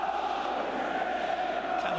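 A steady roar from the Bradford City stadium crowd during a night match against Arsenal, with a constant loud chanting hum and no break across the short stretch.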